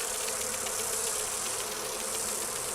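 Bees from a Fade-touched honeycomb drone in Dragon Age: Inquisition, a steady dense buzzing hum that stays level throughout without pause.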